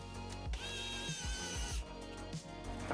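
Screws driven to attach a bracket to the back of a PC power supply, a continuous whirring tool buzz with rising and falling tones and short grinding bursts, close and steady, no speech.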